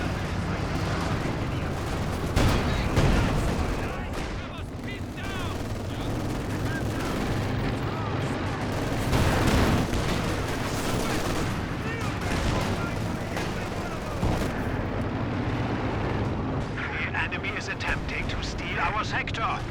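Incendiary artillery fire in Company of Heroes 2, a dense, continuous barrage of booming blasts and crackling gunfire with heavier thumps standing out, mixed under a constant battle soundscape.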